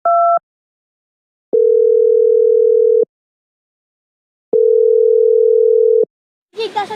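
A phone call rings out on the line: a short two-tone beep, then two long, steady tones separated by silence, loud and clean, before a voice begins speaking at the end.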